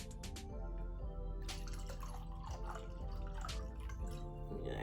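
Wine being poured into a glass, a close liquid gurgle and splash with a few drip-like plinks at the start, fairly quiet and alone.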